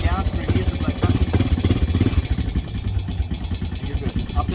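Cold ATV engine idling just after starting, a rough, uneven sputtering putter that fluctuates in loudness, close by, with a voice talking over it.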